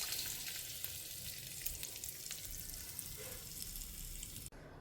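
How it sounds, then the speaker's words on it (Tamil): Mustard seeds, asafoetida and curry leaves temper in hot oil for a mango chutney, giving a steady close sizzle with faint crackles throughout. The sound cuts off abruptly near the end. "பெருங்காயம், கருவேப்பிலையை தாளித்து நம்ம அந்த சட்னியில் சேர்த்துடலாம்."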